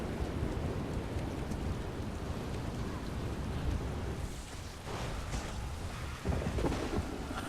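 Thunderstorm in The Elder Scrolls Online during fishing: steady rain hiss mixed with low rolling thunder rumbles, and a sharper crack near the end.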